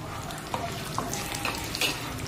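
Cumin seeds fry in hot oil in a clay pot for a traditional gongura and brinjal curry, making a steady, soft sizzle with a few faint crackles and pops.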